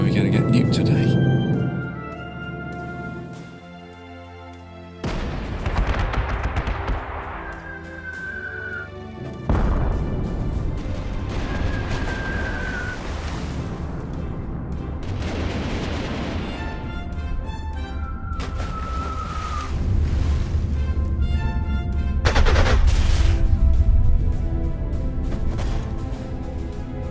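Gunfire and artillery from the strategy game Panzer Corps 2 in its 1946 Invasion USA campaign, repeated heavy booms and crashes with rising whistles and musical tones over a long stretch, a voice speaking now and then.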